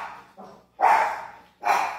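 A dog barks three times: one short, softer yap, then two loud, full barks spaced apart, with quiet gaps between them.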